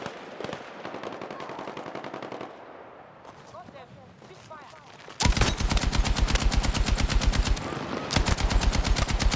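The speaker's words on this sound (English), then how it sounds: "Enemy machine gun!" Rapid automatic machine-gun fire in the video game Battlefield 6, starting midway as a loud, dense burst of closely spaced shots, briefly pausing and then resuming, after quieter distant gunfire and faint voices.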